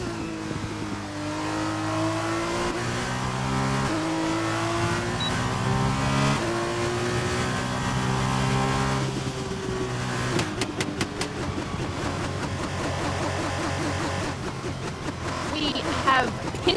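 An F2 race car engine in a racing video game screams through the Hungary circuit's double hairpin, its pitch stepping down and up through gear changes, then rattling as it accelerates out; a commentator talks over it throughout.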